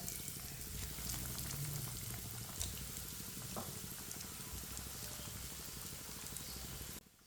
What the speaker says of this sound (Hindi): पैन में एक एक इस तरीके से आपने आलू ऐड कर देना है। गैस को आपने हल्की आंच पे रखना है।